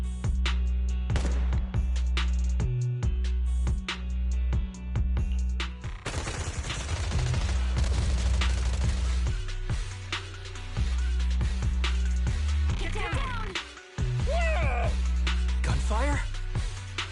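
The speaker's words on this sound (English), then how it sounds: "Gunfire? This pattern. Suppressive marching fire." Suppressive marching fire in the video game Zenless Zone Zero: repeated bursts of gunshots crack through a busy mix of music and effects, with characters speaking over parts of it.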